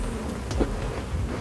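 Honeybees from two hives being merged into one hive buzz close by in a steady, dense hum, with a few individual bees passing nearer for a moment.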